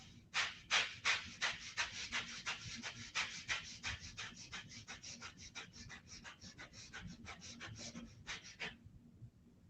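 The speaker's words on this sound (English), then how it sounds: "So 10 seconds, as fast as you can, to see how quick you burn out. Inhale, exhale, we'll inhale." Fast, forceful inhale-exhale breathing exercise done as quickly as possible, a dense run of rapid panting breaths close to the mic that speeds up and then stops abruptly near the end.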